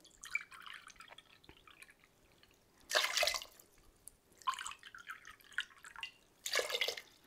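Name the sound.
pouring water into vinegar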